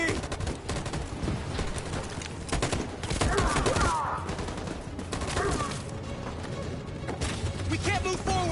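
Sustained machine gun fire in the Detroit video game, dense rattling bursts mixed with battle noise at moderate distance, with shouted voices under it.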